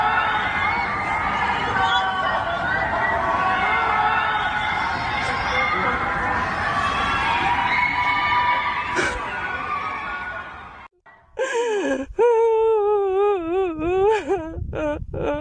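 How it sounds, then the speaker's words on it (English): Residents of surrounding apartment buildings in Urumqi scream and wail together, a dense distant chorus that runs steadily, then breaks off into a close, shaky voice that sounds like sobbing near the recorder. "An Urumqi resident recorded the heartbreaking scene of people living in surrounding buildings, screaming together to vent their frustration."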